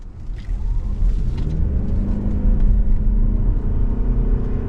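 A 2026 Mazda CX-50 Hybrid Premium all-wheel-drive compact SUV pulling away from a stop, a loud, steady low engine rumble and road drone that builds slightly, heard from inside without talk.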